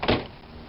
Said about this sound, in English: Let's close the door